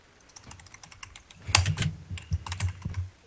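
Rapid clicks of keys on a newly bought computer keyboard, a quick irregular run of near, fairly quiet strokes that thicken into a denser burst halfway through, with no voices.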